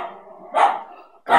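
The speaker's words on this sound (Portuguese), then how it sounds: "É o meu próprio cachorro." A pet dog barks twice indoors, close and loud, the two sharp barks separated by about half a second.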